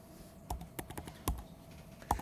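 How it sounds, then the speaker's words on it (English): Keys clatter on a computer keyboard in a short, uneven burst of typing, close and crisp, with soft gaps between the keystrokes. "Start typing in Apple."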